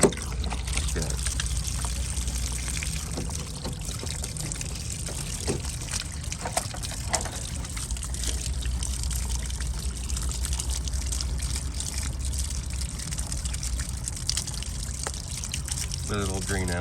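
Washer fluid drains out of a lifted car washer reservoir that leaks at the bottom: a steady trickle and pour of liquid running continuously, with someone talking over it.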